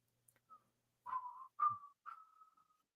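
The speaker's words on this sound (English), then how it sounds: "I used to be able to whistle Battlestar Galactica" A man attempts to whistle the Battlestar Galactica theme, producing three short, breathy whistled phrases after a faint opening note, each tone sliding and wavering before trailing off, close and alone.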